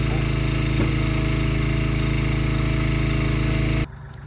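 A log splitter engine runs steadily while firewood is being split outdoors, a loud continuous droning hum close by that cuts off abruptly near the end.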